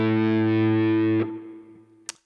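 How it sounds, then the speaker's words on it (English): An electric guitar's open A string rings through a basic distortion pedal, a loud buzzing sustained note that cuts off abruptly after about a second, leaving a faint decaying hum and a small click. "notice how I'm using just a classic distortion tone. I've got a distortion pedal, just a basic distortion"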